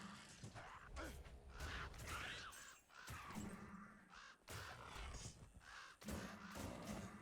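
Ravens caw repeatedly in a fantasy video game, harsh calls recurring in bursts over clanking mechanical game effects, fairly quiet throughout with no talk.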